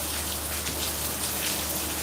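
Rain falling outdoors, a steady dense hiss of drops on surfaces filling the whole stretch, loud and close.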